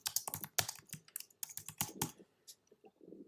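Quick, uneven keystrokes on a computer keyboard as a comment is entered, close and clear with brief pauses between bursts of clicks.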